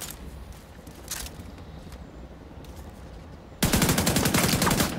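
In the video game The Division 2, faint scattered shots give way to a sudden loud, rapid burst of automatic gunfire that runs steadily to the end, with no talking.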